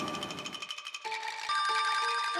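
Mobile phone ringing with an incoming call, a bright repeating electronic ringtone with steady pulsing tones that grows louder and fuller partway through; no talking.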